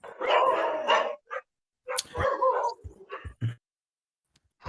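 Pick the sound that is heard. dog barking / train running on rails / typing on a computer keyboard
dog barking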